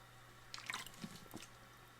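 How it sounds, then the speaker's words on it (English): Someone pouring drinking water, a few faint drips and splashes over a low steady hum, quiet and close with no talking. "Getting some water here."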